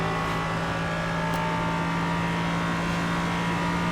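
An LMP3 prototype race car engine in iRacing at VIR, a loud, steady high-pitched drone holding a constant tone, alone with no voices.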